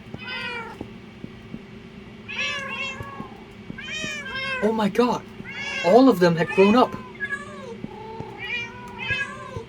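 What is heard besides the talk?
tamed cats meowing in Minecraft, a video game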